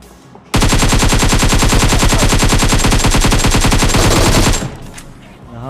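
Nonstop automatic gunfire in the battle royale game PUBG Mobile, one long, loud, rapid burst of shots that ends abruptly and leaves a quieter tail.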